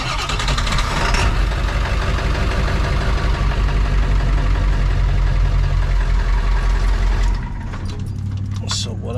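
A Ford F550 rollback tow truck engine cranks and runs with a loud, rough, close diesel rumble, then drops to a lower idle near the end.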